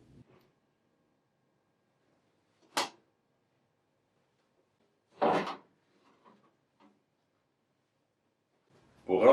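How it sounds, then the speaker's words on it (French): The front door of a Wittenborg 9100 coffee vending machine opening, then its waste bin and drip tray pulled out: a few separate close plastic clunks and sliding knocks spaced by quiet pauses. "Ouvrir la porte, puis retirer la poubelle et le bac de récupération des liquides."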